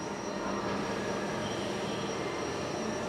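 Steady, broadband mechanical roar of a CNC multi-spindle machine running, constant and fairly loud with a thin high whine on top and no breaks.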